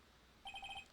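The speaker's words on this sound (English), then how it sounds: "What's with the stupid sounding ringtone?" A cell phone ringtone in the game Ace Attorney: Justice for All, a short quiet burst of five rapid electronic beeps heard alone after a beat of silence.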